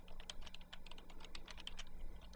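A web address is typed on a computer keyboard in a quick, steady run of soft keystrokes, faint and close, with no voices.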